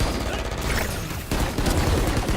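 Rapid bursts of pistol gunfire crackle close and loud in a tactical shooter video game, a dense volley running almost continuously with a short lull in the middle.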